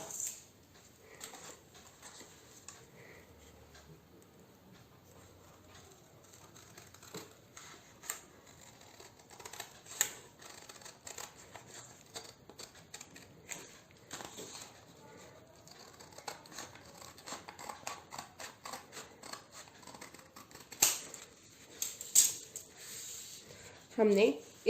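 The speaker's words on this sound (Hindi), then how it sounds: "इसे पिंक लाइन के साथ साथ काटते चले जाएं" Scissors cutting along a marked line across a paper sheet for a Diwali paper lantern, a run of small crisp snips and rustles that grows busier and louder toward the end, with a voice talking throughout.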